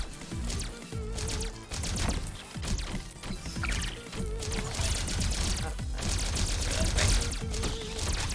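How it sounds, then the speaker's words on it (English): Bugs being shot in the Centipede arcade video game, a dense, continuous stream of rapid blasts and explosive bursts layered with electronic game tones, loud and steady throughout without letup. "just shooting bugs until you get touched once and die explosively"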